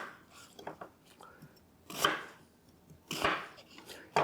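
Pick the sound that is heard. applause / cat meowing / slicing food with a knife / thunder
slicing food with a knife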